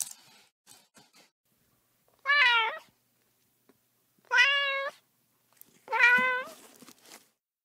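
A cat meows three times, each a clear, drawn-out cry separated by quiet pauses of a second or more, close and distinct, with a few faint rustles in between.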